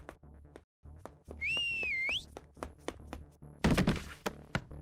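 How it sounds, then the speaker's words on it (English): A sharp, shrill finger whistle rises and wavers for under a second amid thunking, knocking sounds, followed later by a loud burst of clatter in the Helltaker game. "you stick your fingers in your mouth and whistle a sharp, shrill blast"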